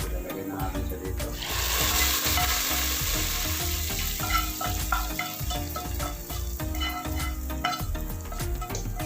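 Browned onions fry in butter with a busy, bright sizzle over rhythmic low thumps and background music-like tones, fairly loud and continuous throughout.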